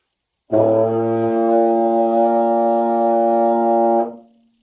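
A baritone horn holds a single low B flat, played open with no valves pressed, steadily for several seconds, round and loud, then fades out cleanly.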